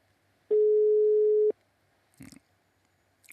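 A telephone line tone sounds while a radio host calls a listener: one steady, loud electronic tone lasting about a second, followed by faint clicks and rustles on the line.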